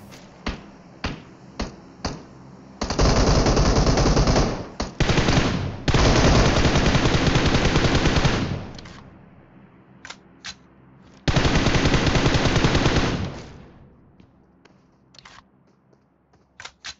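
Gunfire in the mobile shooter PUBG Mobile on an iPad Mini 5: scattered single sharp shots, then long sustained automatic bursts separated by short gaps, loud and close, with isolated cracks trailing off at the end.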